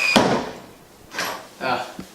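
A misaligned, out-of-whack door on an abandoned duplex property is worked open and shut, giving a scraping knock followed by two softer rubbing bumps and a small final tap, close by with no talking.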